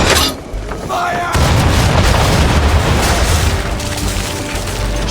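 A heavy boom of ship cannon fire in Assassin's Creed 3 rolls into a sustained rumbling blast as old powder barrels explode, loud and close, with battle noise continuing beneath.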